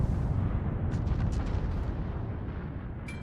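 Warship guns firing in a World of Warships naval battle, a continuous low rumbling barrage of heavy booms with crackling bursts, loud and sustained throughout with no talking.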